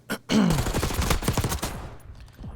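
Gunfire in a Call of Duty match bursts out loud and close, a rapid, dense volley of shots after a single early crack, fading out toward the end.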